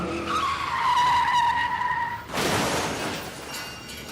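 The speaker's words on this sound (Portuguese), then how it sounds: "Chefe está derrapando." Tires squeal loudly as a car skids, then a crash bursts into broadband noise of shattering and scraping debris. It is a sound effect from a road-safety radio ad, close and loud with no voices.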